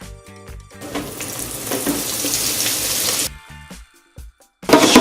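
Hash browns are dropped into a deep fryer at 350 degrees Fahrenheit and sizzle in a loud, steady hiss for about three seconds. The hiss then cuts out, and a brief burst of sizzling returns at the end.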